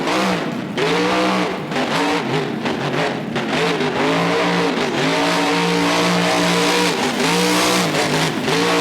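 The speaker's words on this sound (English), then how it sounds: "Certainly letting the rev limit fly. That truck is straining the transmission." A monster truck engine in BeamNG bangs hard against its rev limiter, loud and close, the pitch bouncing up and down in repeated surges with no talk over it.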